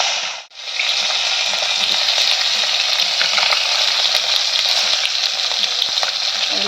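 Small pieces of fish fry in a pan with a loud, continuous crackling sizzle that stays close and steady throughout. Scattered pops and spits rise out of it, with a brief dip near the start and no one speaking.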